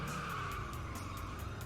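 A car braking and skidding in the Hot Wheels: Stunt Track Challenge video game, a continuous loud tire squeal over a steady engine roar, close and unbroken.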